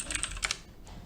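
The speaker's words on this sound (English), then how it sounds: "So I type my name" Name being typed on a computer keyboard: a quick burst of five or six light key clicks, close and quiet, fading out after half a second.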